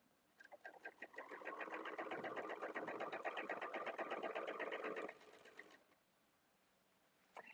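Sewing machine running in free-motion quilting, a rapid steady stitching chatter lasting about five seconds, close and clear, then stopping and leaving quiet room tone.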